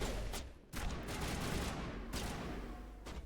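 Gunfire in Mass Effect, several loud bursts of shots with brief gaps between them, sharp and close.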